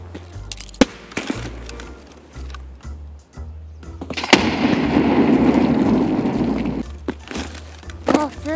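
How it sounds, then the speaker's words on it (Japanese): Grenade blasts in the shooter game Escape from Tarkov, fought around a dormitory: a sharp boom near 4.3 seconds swells into a loud, rumbling roar that lasts several seconds, with scattered pops and clicks before and after. "あとはグレネードを何個か投げて決めますか"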